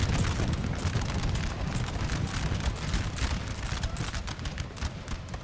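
Musket volleys crackle continuously in a Napoleonic Total War 3 4v4 battle, dense overlapping shots forming a rolling fusillade with occasional booms, steady and fairly loud without talk.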